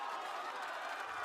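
A packed arena crowd at a Valorant esports match cheers for Sentinels in a sustained, roaring wash of voices and applause, heard from a distance and holding steady throughout.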